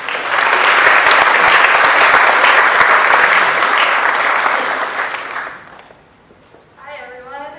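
Audience applause welcoming two student speakers at a scholarship dinner, loud sustained clapping for about five seconds, then fading out before a voice begins speaking near the end.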